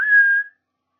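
One short rising whistle from a Seraphite in The Last of Us Part II, clear and near, lasting about half a second, then silence.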